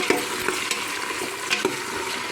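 Young bottle gourd pieces are tipped into a pan of cooking khichdi, with close stirring scrapes and light clinks over a low, steady sizzle, no talking.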